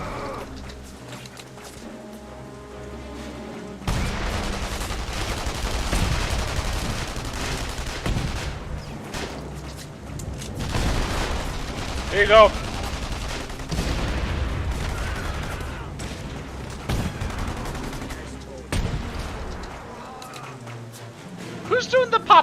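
Bursts of gunfire crackle throughout a session of the video game The Saboteur, scattered shots and rapid volleys at moderate distance mixed with game effects, while a player talks over the action.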